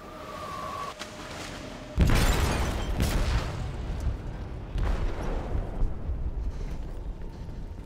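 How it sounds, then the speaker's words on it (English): Explosion in the video game Detroit: Become Human, set off in a ship's hold: a heavy booming blast hits suddenly after a quiet moment, followed by sustained rumbling and further thuds and crashes with no talk. "They detonated an explosive in the hold."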